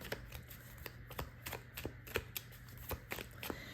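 A deck of oracle cards being shuffled by hand, a close, quiet run of crisp riffling flicks and taps in an uneven rhythm, with no talking.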